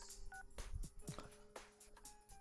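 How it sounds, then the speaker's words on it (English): Short tonal beeps and clicks from a phone call ending in Persona 4 Golden, with brief electronic tones against steady game background music, moderately faint. "Okay, we ended the phone call."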